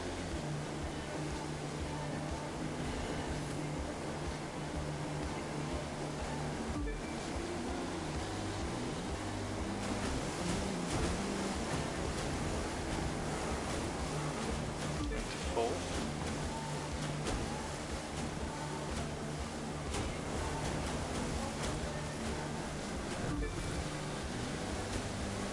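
Waves in the video game The Crew 2 on PS4, a continuous rushing wash of surf and wind with a boat engine droning beneath, loud and steady, with a voice talking over it.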